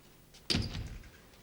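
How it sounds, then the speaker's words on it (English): A door swings shut with a single solid thud, fairly close, its brief rumble fading over about half a second against a quiet indoor room. "Come in, Mary, and shut the door."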